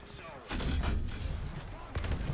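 A heavy gunshot in a tank battle video game, a loud booming blast with a rumbling tail, followed by a second report near the end.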